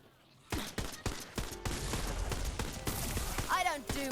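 Sharp bursts of gunfire in Tiny Tina's Wonderlands, a rapid string of close, loud shots after a quiet start, with a voice briefly heard near the end.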